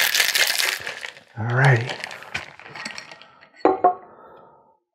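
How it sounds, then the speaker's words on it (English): Cocktail shaker with ice being shaken by hand, giving bursts of bright clinking and rattling, with a voice talking briefly between and over the shakes. "Now our favorite thing, the shaky shaky."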